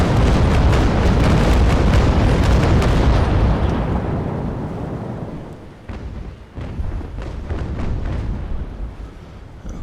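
Ship's cannons firing in the naval battle game Naval Action, a loud rolling broadside of heavy booms that fades out, followed by a few scattered further blasts.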